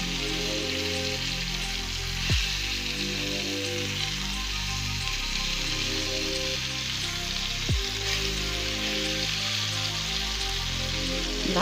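Steady, close sizzling and crackling of meat cutlets frying in a pan, continuous throughout with no voices.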